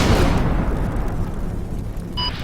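An artillery barrage in the Normandy combat game Combat Mission: Battle for Normandy, with a heavy rumbling explosion decaying into a long, dense roar that stays loud throughout and ends with a faint tonal beep.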